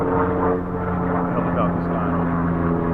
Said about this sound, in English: helicopter's flying